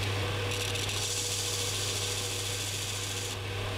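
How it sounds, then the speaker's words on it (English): Worn, rounded-off screw heads ground back to profile on a linisher, giving a steady, loud abrasive belt whir with a constant low hum throughout, no talk. "grind them back to their original profile on a linisher"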